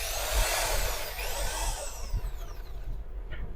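A Japanese-made grinding or drill machine, a used unit for sale, runs briefly with a high whining motor sweeping in pitch over a low rumble, fairly quiet and winding down at the end.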